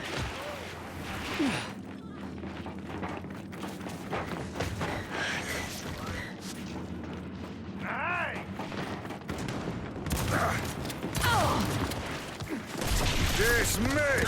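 Gunfire in the shooter game Gears 5: repeated rapid bursts and single shots with heavy thuds and mechanical clatter, close and busy, over game sound effects, with a player talking at times.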